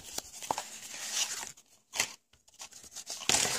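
Scissors cut through a paper card for a tea-light holder, producing short snipping and rustling crunches in quick bursts with brief pauses between cuts.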